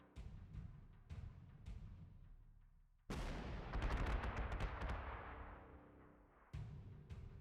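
An 88 gun firing in the wartime strategy game Panzer Corps 2: a few sharp distant thumps, then a heavy booming blast with crackling rumble that slowly decays, followed by another thud, no voices.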